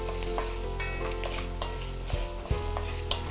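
Green chilies and ginger fry in a pan, a dense, continuous sizzle that stays loud and close, with a few soft knocks of stirring and no voices.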